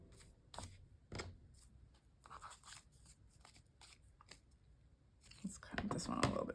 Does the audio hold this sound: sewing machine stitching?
no